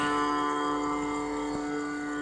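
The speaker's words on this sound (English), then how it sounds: "The second string is slightly heavier" The slightly heavier second string of a sitar tuned to a D scale rings with a bright, buzzing, overtone-rich sustain that lingers and fades gently, alone and close.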